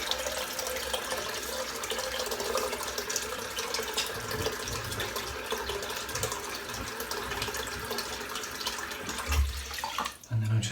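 Tap water runs steadily into a sink for several seconds while hair is wetted before a head shave, a broad continuous splashing hiss with a brief disturbance near the end, no voices.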